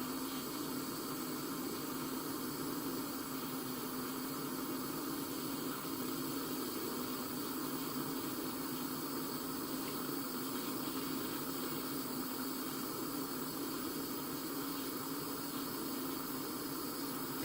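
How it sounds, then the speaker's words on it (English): A small soldering torch flame heats metal wire to ball up the ends into head pins, making a steady, continuous low roaring hiss that holds unchanged throughout with no breaks. "Getting into the sweet spot of my flame."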